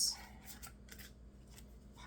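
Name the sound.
shuffling tarot cards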